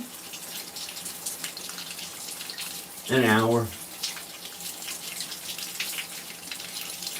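Warm water running steadily from a tap, a constant hiss and gush throughout, with someone briefly speaking over it in the middle.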